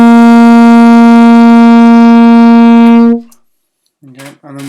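A saxophone holds a single steady G note for about three seconds, loud and close with rich overtones, then cuts off into silence before a couple of short blown fragments.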